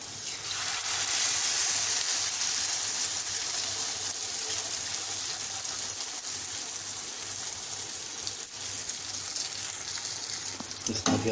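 Malpua batter fries in hot ghee in a pan, giving a steady, dense, loud sizzle that crackles continuously and close up throughout, with no break.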